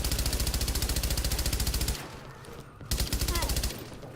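A rapid, steady automatic burst of gunfire in The Division for about two seconds, followed by scattered single shots and game noise.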